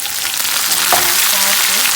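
Ackee and saltfish sizzle loudly in a hot pan as they are stirred, a dense, steady frying hiss with the occasional scrape of the spoon and no pause throughout.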